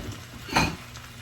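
Canned beans with their juice are tipped into a cooking pan: a short wet splashing pour with a slight sizzle and the scrape of metal, close and fairly soft.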